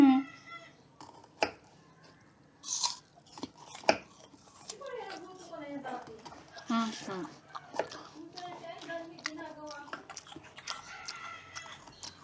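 Knife chopping ampalaya at home for cooking, sharp irregular taps on a board, with roosters crowing and chickens clucking nearby and people talking throughout.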